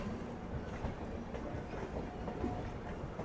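A MEMU train entering a station at Ghaziabad, heard from aboard the passing Dibrugarh Rajdhani Express as a steady rolling rumble with rhythmic wheel clatter, moderately loud and continuous.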